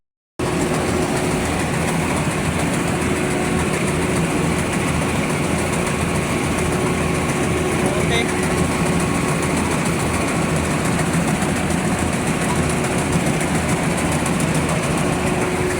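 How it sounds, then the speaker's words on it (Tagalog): A rice combine harvester runs steadily in a paddy field, its engine droning loud and close with a constant mechanical hum and a fixed whine from start to finish, no voices heard. "Yun nga pala yung harvester."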